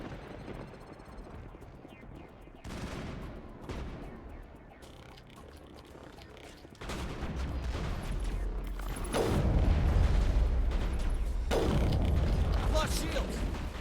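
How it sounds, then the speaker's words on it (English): A mounted gun fires in Mass Effect, with bursts of loud, dense gunfire and clattering impacts building over a mechanical background, intensifying through the second half. "There must be a way to shut that gun down."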